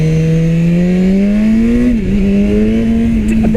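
A 2016 BMW S1000R motorcycle engine revs hard under acceleration, its pitch climbing steadily, dipping briefly at a shift, then rising again, loud and close with no talk over it.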